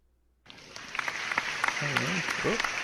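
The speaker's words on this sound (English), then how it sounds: "I don't know if you can hear the applause, but someone just followed us" Applause sound effect for a stream follower alert, a steady crowd-clapping burst that starts abruptly and keeps going with a voice talking over it.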